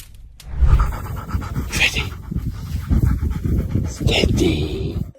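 A dog pants heavily and rapidly outdoors on a calm afternoon, loud and close, with steady breathy rhythm running under a voice speaking throughout.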